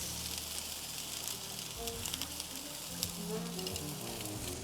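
A tablespoon of tomato puree goes into a hot pan while a beef cheek ragu is being made, and it gives a continuous bright sizzle with a few soft stirring knocks, close and steady.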